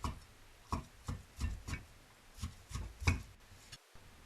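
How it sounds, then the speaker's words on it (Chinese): A knife chops lean pork into shreds on a cutting board, with irregular quiet thuds and scrapes spaced across a few seconds. "瘦肉切成丝"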